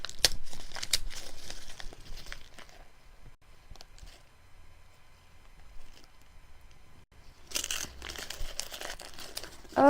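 Wrapping on a gift package crinkles and tears as it is opened, with dense, close rustling bursts at the start, a quieter stretch of faint handling, then another loud crackling flurry at the end.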